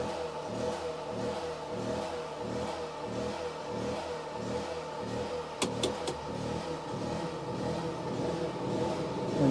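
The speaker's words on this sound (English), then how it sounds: "it doesn't sound like the generator is powering down for it" A portable generator drones steadily in a truck camper, a close, loud engine hum with a pulsing rhythm, broken briefly by a few sharp clicks partway through.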